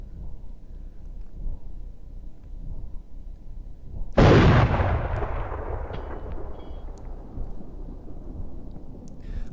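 A single loud, sharp CZ 550 sniper rifle shot in DayZ cracks out against quiet ambience, then a long rolling echo decays over several seconds, with a faint voice underneath.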